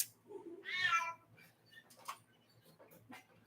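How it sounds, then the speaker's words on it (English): A cat meows once, fairly loud and close, followed by quieter shuffling and small sounds in an indoor room. "Oh, and you got the cats."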